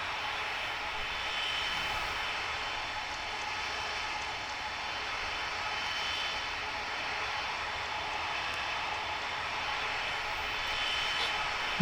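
A heavy jet airliner roaring down the runway on takeoff in the Tower Simulator 3 air traffic control game, a steady broad engine rumble and whine that holds loud and even throughout, with no voices.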